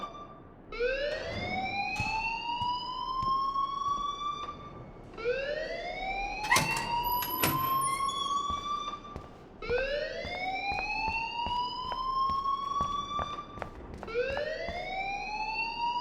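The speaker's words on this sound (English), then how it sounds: "please turn off that alarm since that's your job" A school fire alarm in the video game Life is Strange sounds a repeating rising electronic whoop, about every four seconds, steady and insistent throughout.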